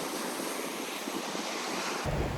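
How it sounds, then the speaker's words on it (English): Surf washing steadily onto Lanikai Beach on Oahu, Hawaii, a continuous broad roar of waves with some wind buffeting the microphone, and a louder low rumble surging in near the end. "We made it to the beach, and this place is beautiful"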